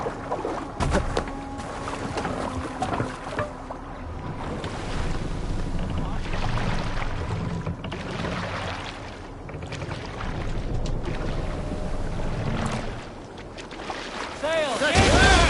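A sailing ship moving through water in Assassin's Creed Valhalla, with steady wind and sea wash rushing throughout, broken by creaks and splashes, loud and continuous.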